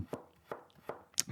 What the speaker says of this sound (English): the kind of mundane action of chopping vegetables is part of the charm